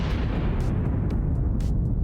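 A deep, sustained rumbling blast from a nuke detonating in a tunnel in the mining game Out Of Ore, heavy low-end roar filling the whole moment with scattered crackles on top.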